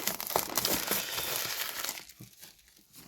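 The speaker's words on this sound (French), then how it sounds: "ça va être parfait pour déballer cet oracle" Crinkling and crumpling of plastic wrap being pulled off an oracle card deck box, close and continuous for about two seconds before tapering into quieter, sparse rustles.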